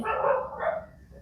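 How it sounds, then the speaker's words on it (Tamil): A dog barks twice in the dead of night during a 3 AM game, the first bark louder and drawn out, the second shorter, both close by with no talk over them. "ஏன்னா அது சொல்லும் போது கரெக்டா நாய் குலைக்குது."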